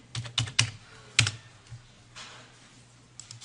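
A handful of crisp, close keystrokes on a computer keyboard enter a number into Mastercam software, tapped in a quick irregular cluster followed by a couple of fainter taps over quiet room tone.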